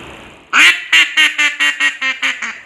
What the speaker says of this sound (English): Miskimming shows the array of duck-calling devices hunters can choose from.